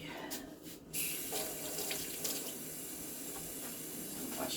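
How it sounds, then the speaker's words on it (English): Tap water runs steadily into a kitchen sink while hands are washed, a continuous close hiss with no talk. "I'm washing my hands again"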